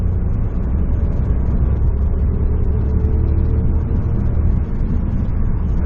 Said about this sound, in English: I just had to overtake that lorry here